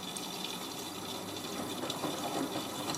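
Water rushes steadily into a Miele W562 washing machine drum as it tops up during a rinse cycle, a continuous close hiss and gush at even loudness throughout.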